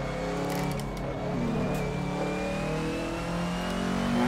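Engine of a 90's DTM Mercedes 190 race car in a sim racing game on the Barcelona circuit, sounding doubled as two overlapping copies, holding a steady loud drone with a slowly rising pitch and no talk over it.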